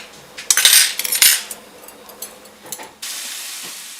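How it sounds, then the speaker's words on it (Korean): A woman washes dishes at a home sink, with cutlery and plates clinking and scraping close by against hissing running water that briefly stops and then gushes again. No one talks. "어느새 설거지를 시작한 장모님"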